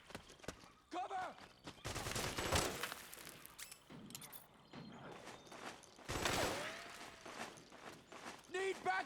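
In a Metal Gear Solid 4 firefight, loud bursts of gunfire and volleys crackle in uneven clusters, with mechanical clanks and shouting voices mixed in.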